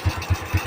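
A Honda Wave 100R motorcycle engine runs in a fast, even low thumping pulse, close and fairly loud, with no voices.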